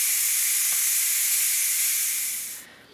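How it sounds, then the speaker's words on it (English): Steam hisses loud and steady from the release valve of a Ninja Foodi pressure cooker after cooking spaghetti, a close, continuous jet that fades and cuts off near the end. "I'm gonna release the steam"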